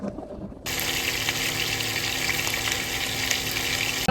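Green chillies and curry leaves hit hot oil in a pan, a sudden loud sizzle after a brief quiet moment, then a continuous, dense crackle.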